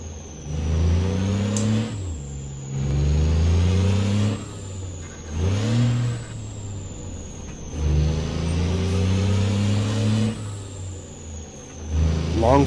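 A Cat C-12 diesel truck engine in American Truck Simulator, climbing through the low gears on a dirt delivery in Canada: five or six rising revs, each cut by a pause and drop in pitch as the gears shift, loud and close.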